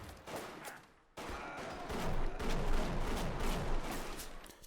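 Shotgun blasts in the video game BioShock: a sharp shot, a brief lull, then a rapid run of booming reports with echoing tails, loud and close, with no talking.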